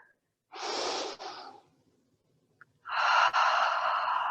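Two deep, audible breaths during a yoga exercise, a long inhale then after a pause a strong exhale, close and breathy with no talk.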